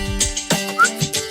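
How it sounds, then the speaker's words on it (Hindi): Person whistling a few short, wavering notes, including a brief rising pitch, over faint background sounds from a Hindi TV drama scene. "सीटी बजाओ बजाओ।"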